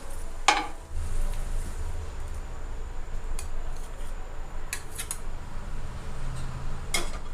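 A cooked bread omelette is lifted from a pan and set onto a plate on a switched-off stove, giving a few sharp clinks of utensil on metal and crockery over faint kitchen background.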